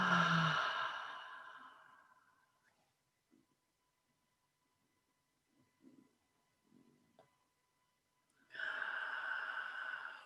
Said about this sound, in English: let's take 3 or 4 deep breaths together